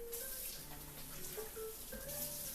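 Tap water running steadily into a pot being rinsed in a kitchen sink, a continuous close hiss and splash with faint tones over it and no talking.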